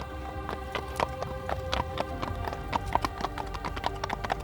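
Horses galloping in an endurance race across the Mongolian steppe, a rapid clip-clop of hooves drumming steadily at a moderate distance, with no voices.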